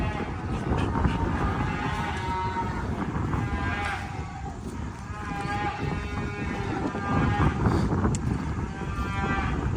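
Weaned calves bawl and moo repeatedly on a farm, a steady chorus of overlapping calls from several animals at close to middle distance, loud throughout with barely a pause.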